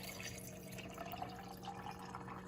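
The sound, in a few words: water poured from a container over almonds in a sink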